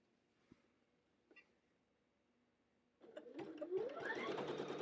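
An embroidery machine starts up after a few faint taps and stitches a castle design, settling into a loud, steady, rapid mechanical whir with a rising motor tone.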